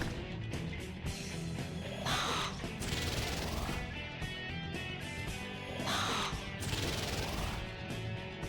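Repeated harsh bird caws from the video game Digital Devil Saga ring out over a dense, continuous game soundtrack, with bright bursts recurring every few seconds at steady loudness.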